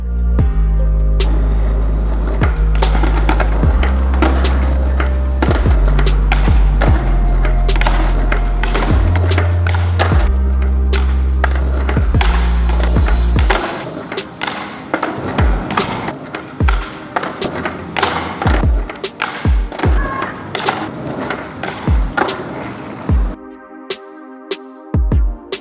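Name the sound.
skateboard rolling while skating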